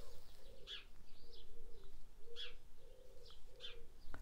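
Small birds perched near an open Velux skylight window of a workshop, repeating soft cooing calls and bright high chirps in a loose rhythm, fairly close but faint, with no talking.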